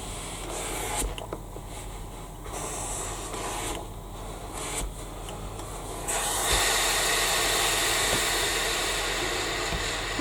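Steam iron pressing the seams of a sewn fabric handbag, a steady hiss that swells and drops in bursts, then settles into a louder continuous spray of steam.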